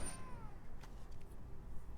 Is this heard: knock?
no